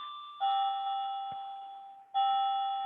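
A clock chiming the quarter hour sounds two sustained, ringing bell-like tones, each struck note decaying slowly before the next, clear and fairly close, with no voices.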